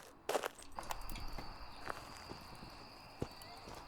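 A ghost's footsteps in the horror game Phasmophobia thud faintly and irregularly at a distance, a handful of soft muffled steps over a quiet low ambience.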